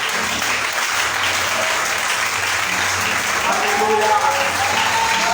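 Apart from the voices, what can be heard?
congregation applauding, ovation to the Lord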